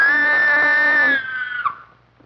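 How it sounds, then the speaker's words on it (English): A woman screams in a Gold Rush saloon scene from a 1955 film: one sustained, loud, high-pitched shriek that breaks off and fades, followed by a brief faint sound. "And a woman screamed."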